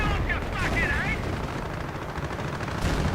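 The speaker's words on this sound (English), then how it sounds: "the Panthers are firing out the trench, not at everything but the trench" Heavy tank cannon and gunfire from Panthers in a war video game, a dense continuous barrage of booming shots with whistling shells near the start, loud and close, with voices beneath.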